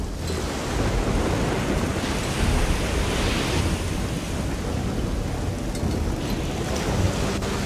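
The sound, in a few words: thunderstorm with rain from the video game Risen 2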